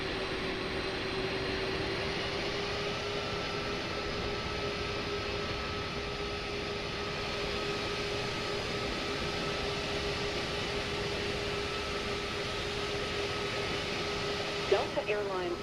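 Airliner jet engines in Microsoft Flight Simulator 2024 roll on as a steady, loud whine and broad rumble while the plane taxis after landing, with a sustained tone throughout and a brief bump near the end.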